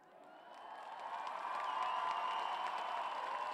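Applause and cheering from a crowd at an outdoor town-square concert by a band, rising steadily from moderate clapping to a full, sustained ovation.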